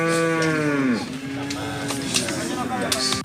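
Cattle low with long, drawn-out moos from herds kept by nomadic herdsmen on government ranch land; a loud close moo opens and bends downward, and fainter lowing and herd noise continue behind it.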